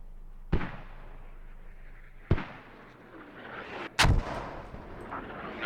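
Mortar rounds land in a military video game as three heavy booming impacts spaced a couple of seconds apart, each a sharp loud thud with a rumbling tail over low ambient noise.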